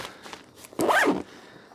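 A zipper on a 5.11 LV10 13-liter sling pack is pulled once in a quick, close, rasping sweep of about half a second, after a few faint handling ticks.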